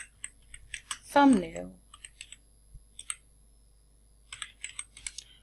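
Keys clatter in quick, uneven bursts on a computer keyboard as text is typed in Arabic, with someone speaking briefly over the clicking and short pauses between runs of keystrokes.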